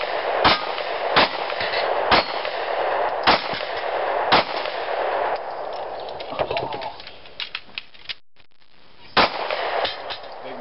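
A Smith & Wesson M&P Shield 9 pistol fires a string of sharp, loud shots at irregular intervals outdoors, some in quick pairs, with a short quiet gap before a final shot.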